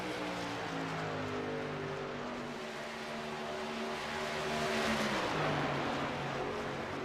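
Race trucks from an iRacing sim race at Kentucky roar side by side, engines droning loud and steady with rising and falling pitch as they charge toward the flag stand.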